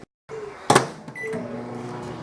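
A microwave oven heating a banana runs with a steady low hum after a door thump and a short clatter, with a brief beep mixed in; no one speaks.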